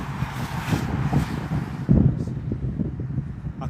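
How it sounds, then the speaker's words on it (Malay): Wind buffeting a microphone outdoors near an airport runway, gusty low rumbling that swells and falls, loudest around the middle, steady and close. "Stop angin ni."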